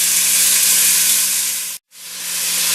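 Black bear osso-buco cooks in a hot pan with onions, giving a loud, steady, bright sizzle. Near the end the sizzle cuts out briefly, then returns.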